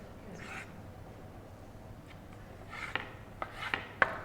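Langoustines being cut into pieces with a knife, faint rasping strokes at first, then a quick series of crisp crunching cuts through the shells growing louder toward the end.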